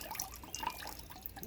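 Water dripping and trickling from a soaked, waterlogged tree fern slab used for mounting an orchid, a steady patter of small close drops with no voices.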